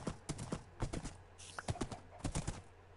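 Horse hooves clip-clopping in Minecraft: PS4 Edition as the horse crosses a bridge, a steady run of crisp, evenly spaced hoof knocks heard alone and fairly close.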